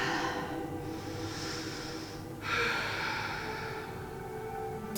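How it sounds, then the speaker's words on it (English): Full, slow exhales during a back flexibility stretching routine, a long airy breath followed by a stronger second exhale, close and steady with no talking. "Nice full exhales."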